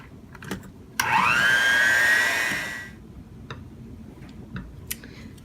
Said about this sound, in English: And I'm going to take the mixer to it.